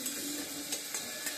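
A pan sizzles and scrapes steadily while onions and hilsa fish with salt, chili, green chili and turmeric are sautéed and stirred for paturi, with soft stirring clicks over a constant fry.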